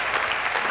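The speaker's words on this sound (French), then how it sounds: "Nous acclamons très fort pour le roi" A church congregation applauds in a dense, steady patter of many hands clapping together, loud and continuous throughout the brief moment.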